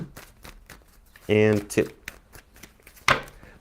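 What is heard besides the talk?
shuffling a tarot card deck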